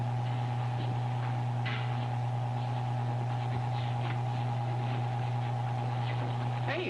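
A hastily built elevator descends with a steady low mechanical hum and drone, a constant tone with faint rattles and clicks over it, with no voices.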